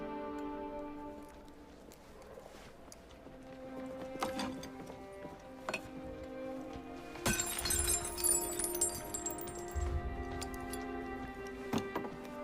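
A bright, crashing glass shatter with tinkling fragments bursts midway through a quiet, sustained orchestral music bed, followed by lingering rattles and small ticks.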